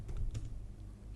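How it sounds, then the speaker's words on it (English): Computer keyboard typing while Java code is entered, a short quiet burst of soft clustered keystrokes near the start, then faint low room noise. "Now I can start typing my code."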